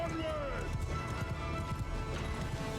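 Cavalry horses ride through a battle in Mount & Blade II: Bannerlord, their hooves clip-clopping in a steady low patter under a dense din of combat, with a voice talking over it.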